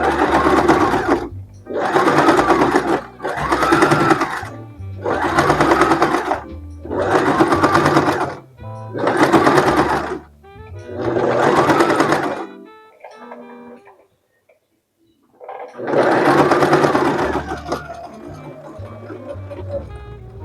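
A sewing machine stitches fabric in repeated bursts of fast mechanical whirring, about eight runs separated by short pauses and one longer gap before a final burst. Close and loud, with no talking.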